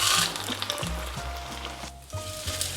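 Vegan torrejas, Salvadoran French toast, fry in hot oil in a pan, a moderate hissing sizzle heard close up with a brief loud burst at the start and soft clatters and pan movements throughout.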